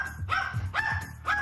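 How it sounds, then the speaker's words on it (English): A dog barks three times in quick succession, close and loud, with a tonal, slightly whining edge to each bark. "This dog's bark went straight through my head."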